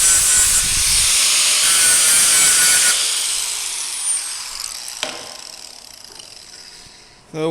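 An abrasive grinder works weld prep into the joint of metal handwheel spokes for an etching press, a loud high hissing whine for about three seconds that then spins down and fades, ending with a clunk.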